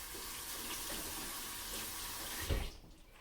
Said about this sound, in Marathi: तर आता मी जरा हात धुवून येते